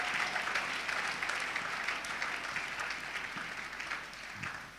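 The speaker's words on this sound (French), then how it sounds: "Je voudrais que vous puissiez acclamer très très fort pour eux." A church audience at a large Christian gathering claps loudly and steadily, dense applause that fills the whole stretch and fades slightly toward the end.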